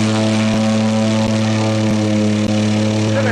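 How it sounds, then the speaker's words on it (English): A float plane engine and propeller drone loudly and close by in remote Alaska, a steady tonal hum with a rhythmic thump running through it and no voices. "Vern and Dave are on this float plane. They came to pick us up."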